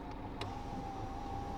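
Electric power windows of a car closing on a road trip across Europe: a steady motor whine holds at an even pitch throughout, faint and close inside the cabin, with a brief tick near the start.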